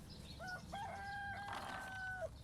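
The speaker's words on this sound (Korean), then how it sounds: "토종닭들이 밥 달라고 아우성인데요." Native Korean chickens on a farm, a flock of about seventy, crowing with a drawn-out rooster call and some clucking, fairly faint and distant against a low background rumble.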